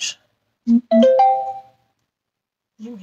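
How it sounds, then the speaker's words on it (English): A short electronic chime of a few quick tones with a sustained ringing note, loud and close, followed by a brief softer blip. "Stupid notifications."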